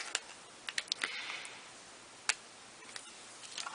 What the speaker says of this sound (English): I'm going to take a micron pen